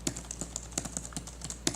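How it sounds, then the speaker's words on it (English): Typing on the springy keys of an iXCC ultra-slim Bluetooth iPad keyboard case produces a quick, irregular run of about a dozen light, clicky taps. The taps are close and moderately quiet, with no voice over them. "the keys feel pretty good. They're really springy. They're a little noisy."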